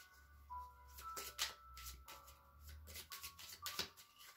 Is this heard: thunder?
no